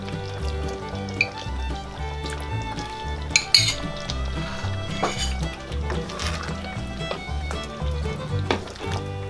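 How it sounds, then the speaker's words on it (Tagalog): A spoon stirs nilapad, a Filipino dish, in a cooking pot, producing repeated metallic scrapes and clinks against the pot with soft liquid sloshing, steady and close, with occasional sharper knocks. "Haluin lang po natin."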